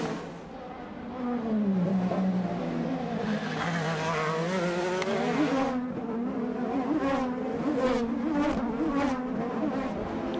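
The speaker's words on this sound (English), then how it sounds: "As the cars come out of the turn" IndyCar race cars at speed on the bumpy Belle Isle street circuit in Detroit, several engines whining and rising in pitch as they pass and accelerate out of a turn, loud and continuous with overlapping buzzing tones.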